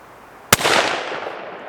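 A Ruger American Scout rifle fires a single sharp, loud shot outdoors on a 100-yard range, followed by a rolling echo that fades over about a second.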